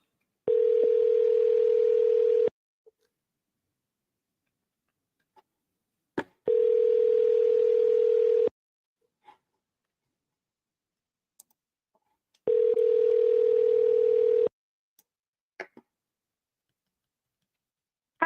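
Outgoing telephone call to a realtor: three steady ringback tones, each about two seconds long, repeat at even intervals with near silence and faint clicks between them.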